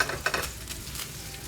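Salmon sears in a non-stick pan with a faint, steady hiss of frying and a few scraping stirs at the start. The sound is fairly quiet and there is no talking.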